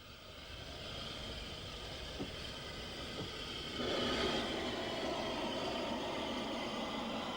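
An S15 steam locomotive runs on a UK main line, its steady broadband rumble and rail roar continuing throughout and swelling louder about halfway through, with a couple of faint knocks early on and no voices.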